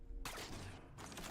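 Gunfire from weapons in the video game Halo 4, a dense burst of rapid shots that starts abruptly after a short quiet moment and keeps going loudly with a brief dip in the middle.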